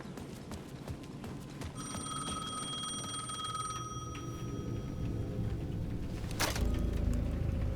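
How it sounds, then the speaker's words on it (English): A payphone rings at the edge of a plaza in the video game Alan Wake 2, a bright electronic ring sounding for a couple of seconds over low ambient game noise, followed by a sharp click and a louder low rumble. "The payphone at the edge of the plaza was ringing again."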